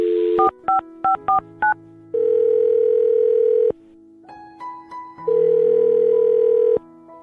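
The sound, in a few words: telephone dialing a phone number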